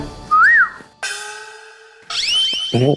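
Short whistle blasts in a comedy household scene: a sliding warble, a long steady tone, then a rising shrill burst ending in a fluttering trill, all loud and close with no talking.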